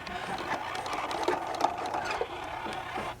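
A sewing machine stitches a fabric pouch with a continuous rapid mechanical whir and clicking needle rhythm, close and moderately loud, with brief pauses and shifts in pace.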